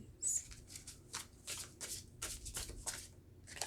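Tarot cards are shuffled by hand in a series of quick riffling bursts, crisp papery flutters repeating in an uneven rhythm at close range, with no voices.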